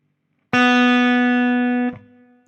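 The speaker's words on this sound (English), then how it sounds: "it's the B string. Open B string now." After a moment of silence, the open B string of an electric guitar is plucked and sustains evenly for over a second before being cut off short.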